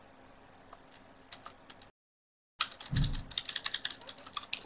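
Typing on a computer keyboard: quick irregular clicks of keys, broken by a short silent gap, then a louder, denser burst of keystrokes with a soft thump, close and clear.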